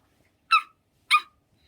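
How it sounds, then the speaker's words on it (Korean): A dog gives two short, sharp barks about half a second apart, with silence around them; the barks sound clean and fairly distinct rather than muffled. "아주 멀리서 강아지가 짖는 소리를 들렸습니다."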